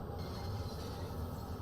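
A London Underground train runs at speed in a train simulator game on the Cathcart Circle Line, making a continuous low rumble with rhythmic wheel and rail noise, close and steady throughout.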